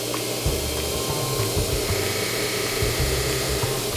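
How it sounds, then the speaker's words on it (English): Knife blade being polished on a grinder or buffer in a knife workshop to remove grind lines, a steady whirring mechanical drone with faint scraping, close and continuous. "So you see how I'm kind of polishing that blade up there?"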